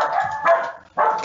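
A female dog barks a few times nearby, short sharp woofs with a brief pause between them.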